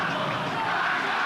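Grêmio football fans in a stadium jeering São Paulo's Kaká during a 2003 Campeonato Brasileiro match, a loud dense crowd roar of yells and whistles, sustained throughout.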